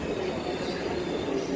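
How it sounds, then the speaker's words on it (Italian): A Frecciarossa 1000 high-speed train in Train Sim World 2 gives a steady, dense rolling rumble with faint wheel squeal, heard continuously from inside the carriage. "E il treno dovrebbe partire proprio adesso."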